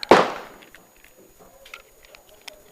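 A single sharp, loud report from a 9x25 or 357 Sig pistol firing a test round, with a quick echoing decay and faint clicks and rustling afterward.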